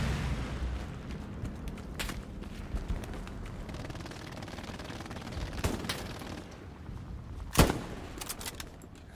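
Video game gunfire, scattered sharp shots and bursts rising out of a steady rumbling background. One loud crack stands out near the end.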